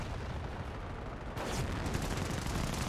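A Flak 88 anti-aircraft gun firing in Company of Heroes, a heavy boom that jumps in loudness midway and rolls on amid dense battle noise, with no talk.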